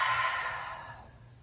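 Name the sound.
exhaling out of the mouth during yoga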